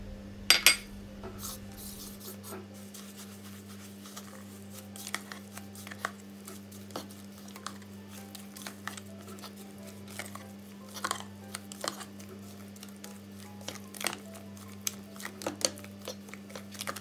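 Agar-agar mixture with 175 grams of granulated sugar stirred in a pot, giving soft scraping and light clinking strokes at an irregular pace over a steady low hum, no voices.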